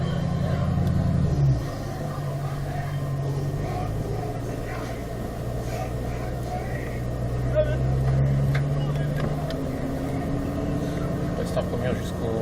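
A Ford Mustang Shelby pulls away in first gear on a racing circuit, its low engine rumble steady and close, with a short revving rise near the start and a swell toward the end while people talk over it.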